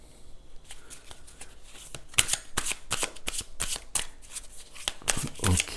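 Tarot cards are shuffled steadily for several seconds, a run of crisp, papery riffles and flicks that comes close and clear with no voices over it.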